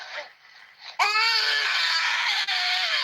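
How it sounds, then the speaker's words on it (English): Children crying and wailing loudly together after a brief quieter stretch, sustained sobbing cries recorded during an attack in Plateau State. "these are just sound of children crying"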